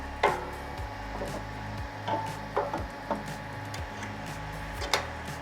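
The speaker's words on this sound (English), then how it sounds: "put the resin tray back in place" Plastic resin tray being set back into a Creality Halot-Mage 8K resin 3D printer, with a series of close clicks, knocks and scraping handling noises at irregular intervals.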